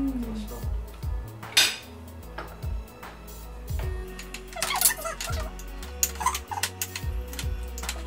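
A spoon or utensil clinks and scrapes against a bowl in irregular bursts while avocado flesh is mashed for a homemade face mask, close up, with brief speech between strokes.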